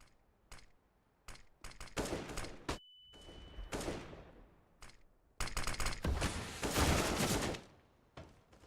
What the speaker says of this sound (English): Shots are raining in onto Rowland.